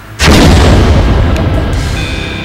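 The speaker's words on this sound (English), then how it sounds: "it's an explosion on the lower floor" A single loud, booming explosion erupts suddenly and rumbles on with a long, dense roar and debris-like crackle inside a building on a lower floor, an audio-drama sound effect with no talking.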